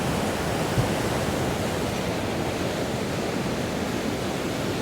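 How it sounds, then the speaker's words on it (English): Steady broadband roar of ocean waves breaking on the rocky Cornish coast below Kenidjack Castle, continuous and fairly loud, with no distinct individual wave crashes standing out. "Look at these waves."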